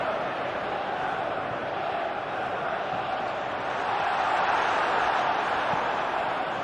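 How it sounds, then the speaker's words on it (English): A stadium crowd in eFootball 2021 keeps up a broad, steady roar of cheering that swells slightly toward the end. "Crowd appreciates good football all round there"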